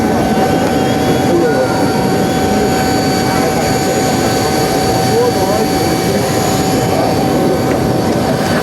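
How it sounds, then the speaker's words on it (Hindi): A Shree Airlines chartered airplane's engine roars in a steady, loud, unbroken drone with a high whine on top, close by and filling the whole stretch. "ये है हमारा चार्टर्ड विमान, जैसे कि आप देख सकते हैं श्री एयरलाइंस का"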